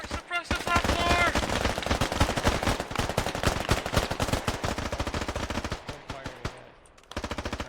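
Heavy, sustained automatic gunfire pours into a building in a US Marines combat video game. The bursts are loud, rapid and close, with a brief lull near the end before the shooting picks up again.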